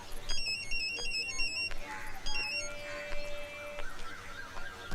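A mobile phone rings while a call is placed, two bursts of a melodic electronic ringtone over a noisy background, with a voice talking partway through.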